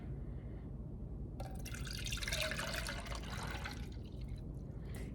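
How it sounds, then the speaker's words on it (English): Lemon sherbet mixture pours into a Ninja Creami container, a steady close liquid trickle and splash that swells in the middle and then tapers off, with no talking. "So I'm just going to pour that in my Ninja Creami container."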